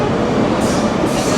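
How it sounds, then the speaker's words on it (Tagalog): A metro train pulls into a station in Barcelona, a loud close rumble of wheels and carriages with broad roaring noise that holds steady throughout, no voices over it. "Ito na ang tren na sasakyan natin."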